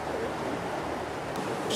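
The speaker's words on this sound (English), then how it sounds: "So here we are at the River Jordan. It looks as though there's a decent amount of water in it as well at the moment." Water of the River Jordan rushing steadily as broadband wash at a riverside, mixed with wind buffeting the microphone, continuous and fairly loud throughout.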